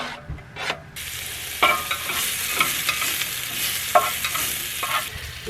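Chorizo sizzles and fries in oil in a pan while cooking in a campervan, with a continuous crackle broken by several scraping stirs, close and steady with no talk.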